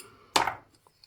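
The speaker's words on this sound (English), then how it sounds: "This is a nibbler." A single sharp metallic snip as a hand nibbler tool bites into a quarter dollar coin, loud and close, followed by a brief quiet ring and faint handling.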